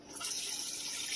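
Tap water pours into an aquarium during setup, a steady, hissing rush of running water that stays even for its brief length with no voices.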